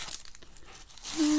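Masking tape peeling off watercolor paper, a short crinkly tearing rasp that grows louder and more hissing toward the end, close and alone.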